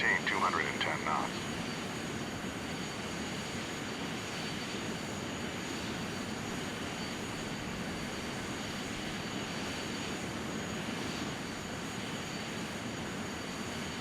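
Airliner jet engines in Flight Simulator X roar as a steady, even drone throughout, with faint tonal whine above it and a brief higher sound near the start.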